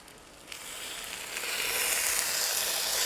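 Fish fries in a pan with a bright, steady sizzle that swells louder partway through and keeps hissing up close, with no voices.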